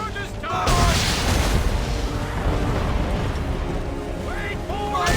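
Heavy ship cannons firing in a naval battle in Assassin's Creed III, a loud booming blast followed by a long rumbling roar mixed with shouted battle voices and a music score.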